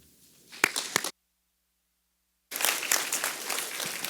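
Audience applause at an AI lecture welcoming the speaker Surya Ganguli, a short burst of clapping, then a gap of silence, then sustained clapping from a crowd.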